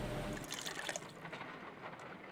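Water trickles and splashes steadily as it is poured into an ice cream mold set inside a bucket in the Sherlock Holmes: Crimes and Punishments game, a soft continuous liquid sound that thins out toward the end.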